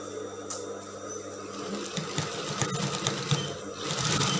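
A sewing machine stitches the side seam of a mermaid dress, a continuous close mechanical whir with a fast rhythmic chatter that speeds up slightly toward the end, with no voices over it.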